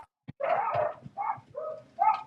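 Several puppies bark and yip at home in short, high-pitched bursts, a run of four or five close, loud yaps separated by brief pauses.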